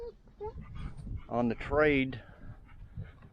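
A pet dog whimpers and yips in a few short, whiny bursts close by, mixed with someone speaking to it.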